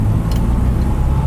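A 1962 Morris Minor on a short test drive after brake adjustment and greased trunnions, heard from inside as a loud, steady low engine and road rumble with no talk.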